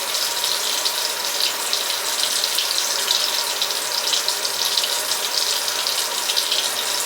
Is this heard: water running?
yes